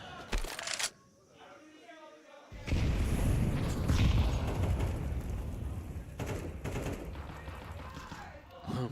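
Bursts of gunfire in a competitive online shooter match with Desert Eagles, Five-sevens, P250 pistols and scoped rifles, loud and dense, sustained volleys over a backdrop of game noise, with a commentator talking over parts of it.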